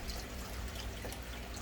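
Liquid poured through a funnel back into its container, a soft steady trickle with low rumble throughout, fairly faint and continuous with no talking.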